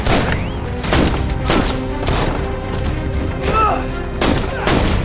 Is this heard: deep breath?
no